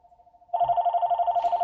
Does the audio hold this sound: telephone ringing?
yes